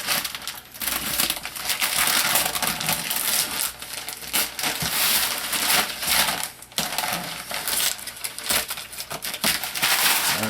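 Razor blade and sharp knife slicing open the packaging of a Soyee 1:10 scale 4WD RC monster truck, close crinkling plastic and cardboard rips in bursts with scraping cuts, several loud clustered crunches and quieter pauses between.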